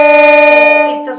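A sharp violin note, out of tune against the open D string, rings close and loud as a sustained bowed tone with a slight pulsing waver, fading near the end with no talk.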